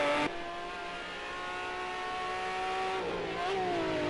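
A McLaren F1 Longtail engine screams in a Project Cars 2 race, a sustained high-revving tone that holds steady, then drops and climbs again through a gear change, loud and with no talking.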